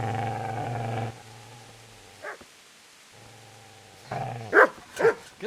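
A dog in the medieval game Kingdom Come: Deliverance gives a short yelp, then two sharp barks near the end, set against a low, steady background drone.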